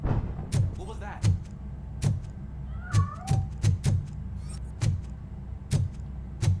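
Cat meowing in the video game Robocop: Rogue City, several short meows spread across the scene amid repeated thuds or footsteps and a low ambient hum, with some voice activity mixed in.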